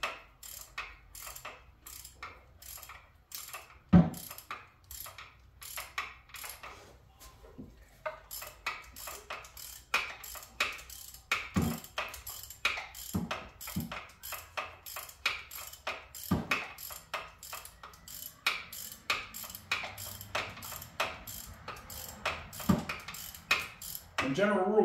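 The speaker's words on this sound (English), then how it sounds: "if the ratchet keeps ratcheting back, it's probably too tight to do by hand" A hand ratchet clicks in rapid bursts while bolts are worked loose on a 1995 Z28 Camaro engine, close and crisp, with pauses between runs and occasional metallic knocks of tools.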